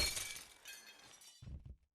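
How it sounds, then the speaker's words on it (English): Glass panes shattering in the game Happy Wheels: a loud, bright burst of breaking glass followed by a second, lower crash and rattling debris, with no talk. "Now the panes shatter immediately under my wheels."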